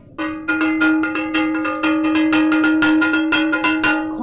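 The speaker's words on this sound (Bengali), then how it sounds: "আমি ঘন্টা বাজালাম" A small hand bell rings repeatedly in a fast steady rhythm during an evening Hindu puja at a home shrine, the bright metallic tone loud, close and ringing on between strikes, with no voices.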